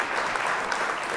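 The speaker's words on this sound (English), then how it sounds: "And I give her a round of applause." Steady, dense applause from a crowd, continuous and fairly loud throughout the short burst with no pauses.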